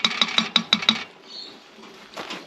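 Beef curry stirred in a cast camp oven sitting on top of an Ozpig, a spoon scraping and clinking against the pot in a quick run of six sharp metallic knocks, then quiet with faint rustling.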